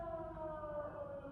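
A wailing siren sounds steadily from a distance, a single sustained tone with faint harmonics, with no talking over it.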